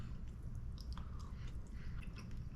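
Seared scallops are chewed close to the mic in soft, moist, squishy bites over a couple of seconds, quiet and steady.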